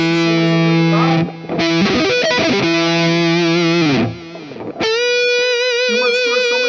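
An SX57 electric guitar played through heavy distortion, loud sustained chords that ring out, break off briefly, then give way to a new sustained riff with bright overtones, with no voice over it.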